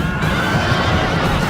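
Horses whinny and neigh loudly in a Rome: Total War battle, with a continuous close mass of overlapping equine calls and faint hoof clatter beneath.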